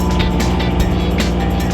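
A Gator utility vehicle drives at a dig park, its engine giving a loud, steady close-up drone with slight rhythmic pulsing throughout.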